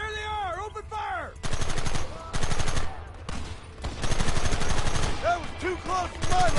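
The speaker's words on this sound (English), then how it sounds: "Open fire!" Rapid bursts of gunfire in the Red Dead video game, loud sustained volleys of repeated shots in several long stretches, with shouting voices in between and over the firing.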